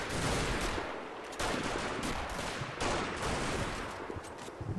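Gunfire in the Combat Mission: Battle for Normandy game during a fight in bocage country, sustained loud, dense bursts that overlap into a constant roar, with a few sharper onsets as new volleys begin.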